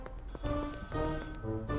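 A phone ringing in the drug-dealing sim game Schedule I, a repeating electronic ringtone with steady tonal pulses over a low background hum, fairly close and with no talking.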